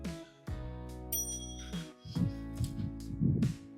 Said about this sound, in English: he used his bell to let us know that he's there